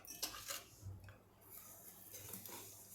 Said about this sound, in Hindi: अब हम इसको हिलाएंगे,